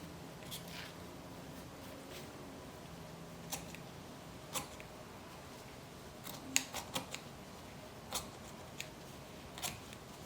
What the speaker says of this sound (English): So I'm just taking my scissors